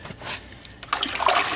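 Water poured into a large hole in a foundation to wet it before patching with fast-drying cement, a close trickling splash that grows fuller and steadier in the second half.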